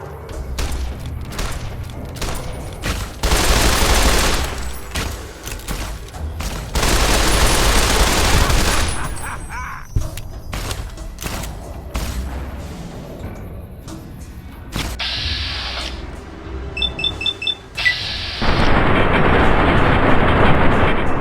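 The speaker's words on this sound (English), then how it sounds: "I'm getting shot with something." Gunfire striking the player in Fallout: New Vegas: loud bursts of shots and impacts, dense stretches of rapid fire broken by quieter pauses, close and harsh.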